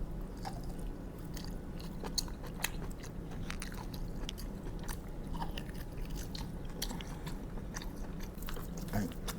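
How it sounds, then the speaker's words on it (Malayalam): Someone eats meat off a cooked mutton bone in a masala dish, with close, continuous chewing, crunching and small scraping bites under a low steady background hum. "ഈ ബോണിൻ്റെ പുറമേ ഉള്ളത് നമുക്ക് ആദ്യം കഴിക്കാം"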